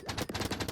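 Rapid gunfire from a Gatling tower in a tower-defense video game, a fast unbroken stream of sharp shots close up with no talking.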